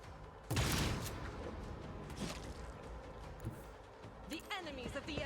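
Gunfire erupts in a Warhammer 40,000 Rogue Trader turn-based battle: a loud burst of shots at the start, then scattered lighter impacts and bursts, ending in a quick run of sharp rattling hits, with a voice speaking at points.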